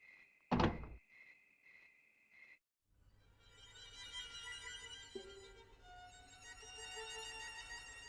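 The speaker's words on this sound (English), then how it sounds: "let's go through this door" A door opens in the survival horror game Rule of Rose with a loud, sharp thunk near the start, then a creaking ring and a rumbling mansion ambience that swells behind it.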